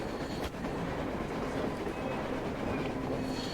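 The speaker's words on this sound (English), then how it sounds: "A train! A damn train on the surface!" A train in the Metro Exodus video game, on the surface, rumbling with a dense, continuous roar and faint clatter that stays loud and close throughout.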